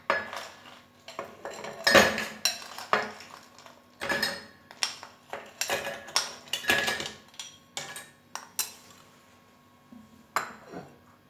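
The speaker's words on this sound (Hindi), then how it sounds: "अब हम इसमें डालते हैं बर्फ़" Ice cubes clink and rattle into a glass or jug of phalsa juice in a series of sharp, close knocks and chimes separated by short pauses.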